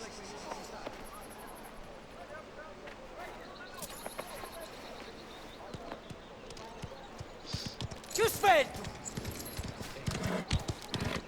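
Horse hooves clip-clop at a gallop in the Mafia: The Old Country video game, a steady rhythmic patter running the whole time with brief louder bursts near the end.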